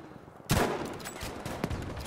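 Sniper gunfire in the Battlefield 5 shooter game on the Narvik map: a loud, sharp shot cracks in after a quiet start, followed by a sustained battle din with further scattered shots and impacts.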